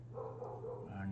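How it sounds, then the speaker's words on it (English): A pup makes a ruckus with faint, muffled yips and bark-like whines, heard quietly in the background throughout. "Forgive me, I'm gonna go get the pup. It's making a ruckus."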